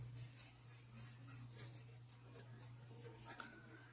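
A pencil or pen traces a round circle for an eye's iris, producing soft, close scratching strokes that come in brief repeated bursts over a faint steady hum.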